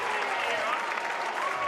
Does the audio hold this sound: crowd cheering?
yes